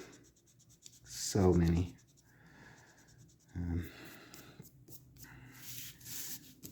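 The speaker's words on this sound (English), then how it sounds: "just kind of this arc with my pencil. And then I just erase all the oopses" Pencil sweeping an arc across drawing paper, then an eraser rubbing it out, during sphere shading; a short scratchy stroke and a brief rubbing burst, close and moderate, with a quiet voice speaking briefly.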